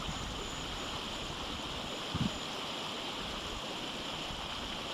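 A river flows through remote jungle forest, its steady broadband rush continuous and fairly close, with one brief low knock partway through and no voices.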